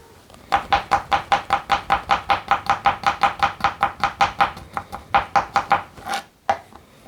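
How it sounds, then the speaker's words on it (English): A knife slices chicken for fajitas on a cutting board in a quick, steady run of about twenty close, crisp strokes, then pauses briefly before a few final cuts, with no talking. "slice these up real quick here"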